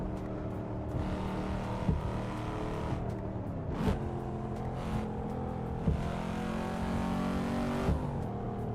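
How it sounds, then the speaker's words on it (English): A Cadillac CT5-V engine in a racing video game drones loudly and steadily, with repeated gear shifts roughly every two seconds marked by brief changes in pitch, and no talking. "I'm driving a Cadillac in the game"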